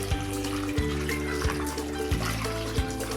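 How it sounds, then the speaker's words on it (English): Eggshells being washed by hand in a vessel of water, a steady trickling, sloshing wash with repeated soft thuds roughly every two-thirds of a second as the shells are stirred, close and moderately loud with no talk. "Wash it nicely until smells gone"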